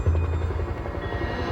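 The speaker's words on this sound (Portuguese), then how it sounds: "quando os helicópteros aterrissam" Helicopters landing during the Munich Olympic hostage crisis, a steady low rotor drone with rhythmic chopping throbbing continuously and loudly throughout, no talk.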